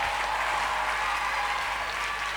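A church congregation applauding and cheering for the Lord, dense continuous clapping from a large crowd, loud and sustained without pause.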